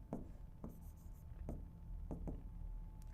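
Pen or chalk strokes scratching out the base of a triangle during a Class 10 similarity geometry lesson: a handful of short, sharp scrapes and taps spaced irregularly over a steady low room hum, no talking.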